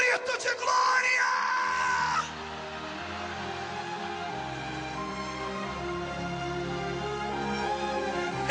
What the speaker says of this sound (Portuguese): Quem crê nisso, dê um grito de glória.